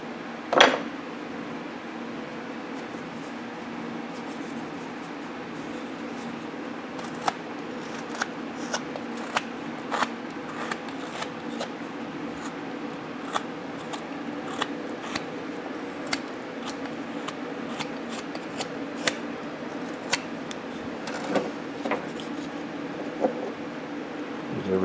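A knife carves a small wooden teddy bear figure. Faint, scattered scraping ticks and light cuts recur unevenly over a steady background hum.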